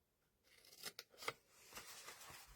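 Scissors cutting card for a homemade gift box, a few close, quiet snips followed by a soft sliding cut, with no talking.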